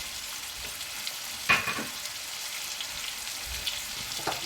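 Veal tajine with honey and apricots stirred in a pan over a steady low sizzle, with one brief scrape of the utensil and faint later stirs, no voices.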